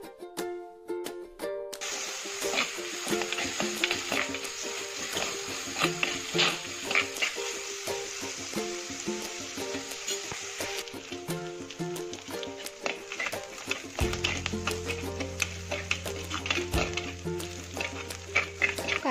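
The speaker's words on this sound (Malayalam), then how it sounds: "ഇനി ഇതിലേക്ക് അരിഞ്ഞു വെച്ചിരിക്കുന്ന ചെറിയുള്ളി, ഇഞ്ചി, വെളുത്തുള്ളി, പച്ചമുളക് എന്നിവ ആഡ് ചെയ്ത് കൊടുത്ത് എല്ലാം നന്നായി ഒന്ന് മിക്സ് ചെയ്തെടുക്കുന്നുണ്ട്" Chopped shallots, ginger, garlic and green chillies frying and being stirred in a pan for a coconut-based Kerala fish curry, giving a steady close sizzle with frequent scraping stirs, and a deeper hum joining in later.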